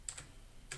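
Typing on a computer keyboard: a few faint, quick key clicks, two close together then one more after a short pause, in a quiet room.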